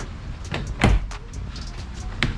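Plastic door sweep trim being pried and pulled off a 2022 Kia K5 door, with a few sharp clicks and snaps, one louder pop near the start and another near the end, close by with no talking.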